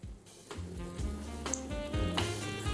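Onions frying in a pan in Algerian home cooking, a steady close sizzle with faint stirring scrapes, no talking.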